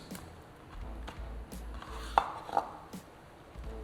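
Salmon or fry bread being sliced into flat pieces with a knife on a board, quiet irregular cuts and soft taps spaced about every second, close and alone with no talk.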